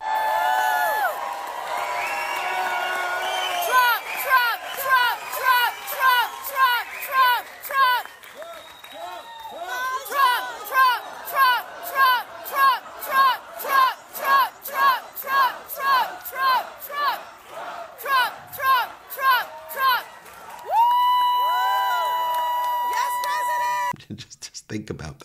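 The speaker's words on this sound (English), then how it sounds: "they were chanting the name Trump, Trump, Trump." A crowd at a Trump event in Detroit, held in a place of worship, chants his name in a steady rhythmic cadence, loud and sustained with cheering swells.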